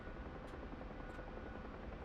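Helicopter rotor and turbine drone from the DCS flight simulator game, a steady dense close whir that holds level throughout with no talk.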